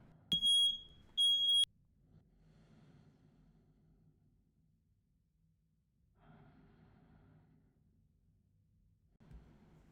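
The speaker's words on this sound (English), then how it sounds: "The fire alarm is silenced." Smoke alarm going off inside a house: two sharp, piercing high beeps near the start, then quiet room tone with faint breathing and soft rustling afterward.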